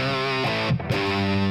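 A distorted electric guitar rings out a single sustained note, the third above an A power chord, thick with harmonics, with a brief break and re-pick before the note carries on, alone without talk.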